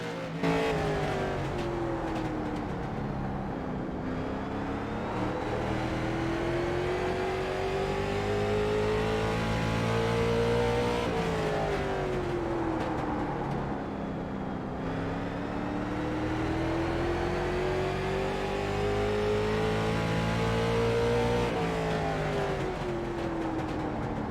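A late model race car engine in iRacing at Martinsville, revving loud and close as it climbs and drops through the gears in repeated smooth sweeps, alone with no voices.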